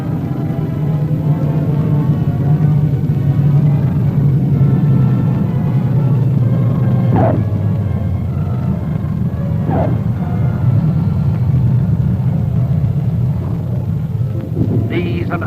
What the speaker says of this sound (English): An aircraft of a Hurricane Reconnaissance Squadron arrives from Guam.